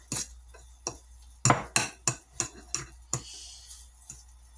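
Hand-mixing a batter with a utensil in a bowl gives a series of sharp clinks and taps, about eight spaced strikes over a few seconds, close and fairly loud with quiet gaps between.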